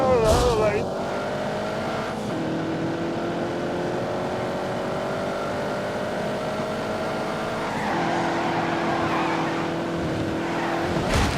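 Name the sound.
race car speeding in The Grand Tour Game video game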